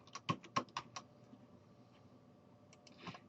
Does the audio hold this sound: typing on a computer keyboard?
yes